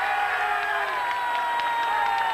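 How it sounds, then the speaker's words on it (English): A roadside crowd cheers cyclist Eugeni Berzin away from the start house at a 1994 Giro d'Italia time trial, a steady wash of cheering and shouts with a faint whistle-like tone over it. "this popular man, although the press here in Italy would have you think otherwise, is cheered away by the crowd"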